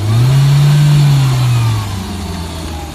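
A 2020 Mahindra Thar's engine revs hard in 4 Low while crawling off-road, a loud close-up roar that swells and then eases off over a few seconds.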